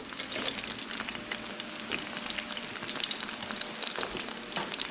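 Eggs frying in a lot of bacon grease, a steady crackling sizzle with dense spitting pops, close and continuous throughout.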